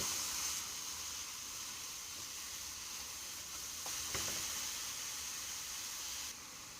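Cauliflower rice sizzles in a pan, a quiet, steady frying hiss that carries on without a break.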